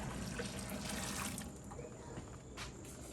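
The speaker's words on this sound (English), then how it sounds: "Dump this hot water down the drain." Hot water poured from a pot down a kitchen sink drain while pickling beans, a steady rushing splash that thins after a second and a half into a softer, gurgling trickle, close by with no talk.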